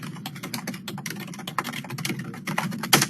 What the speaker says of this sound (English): Sorry for my fast typing there.